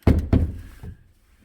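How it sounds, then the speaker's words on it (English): An HVAC unit's access door is worked loose and removed, giving two heavy hollow metal thunks close together near the start, then a softer knock and a brief rattle fading to quiet. "So we're going to have to take off this door"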